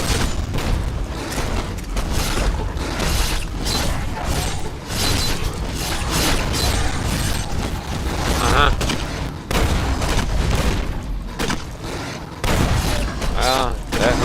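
A gun loaded with incendiary rounds fires over and over in Fallout: New Vegas. The loud shots and clanking mechanisms run on without a break.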